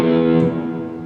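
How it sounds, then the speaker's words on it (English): A single open low E guitar string rings, a deep sustained note with rich overtones that slowly fades over about a second. "this is the sound of the open low E string"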